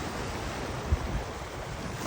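Pacific Ocean surf at Kaanapali Beach, a steady wash of waves with wind buffeting the microphone, continuous and fairly close with one brief bump.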